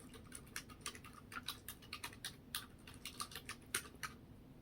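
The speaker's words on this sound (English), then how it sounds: "I'm going to go to Google search and type please secure my office" Quick, steady clicks of typing on a computer keyboard in an office setting, close and fairly quiet, with irregular keystroke bursts and no talking.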